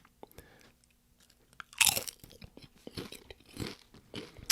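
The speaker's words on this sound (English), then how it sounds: "They've got a good crunch on them." Mild, lightly salted Polish snack chips crunched close up, one sharp bite followed by a run of irregular chewing crunches, with quiet pauses between them.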